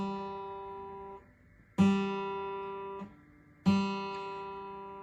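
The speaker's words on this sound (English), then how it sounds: "the third string is called a G, and it's below the other three that I just taught you, and it sounds like this." Guitar G string, the third string, plucked open three times. Each note rings clearly and decays slowly before the next pluck, with quiet gaps in between and no talking.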